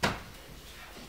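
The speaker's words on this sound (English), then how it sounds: "Close the door, please." A door in a home swings shut with a single short, soft thump that fades quickly into quiet room tone.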